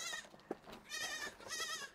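A goat bleats outdoors in Morocco, several wavering, quavering cries in succession at moderate distance, with a brief knock between them.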